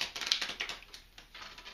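Playing cards are shuffled at a tabletop game session, with quick, light riffling taps and flutters close by and no voices.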